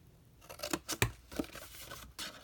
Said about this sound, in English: I'm going to grab my larger scissor and I'm going to snip down to the score line on each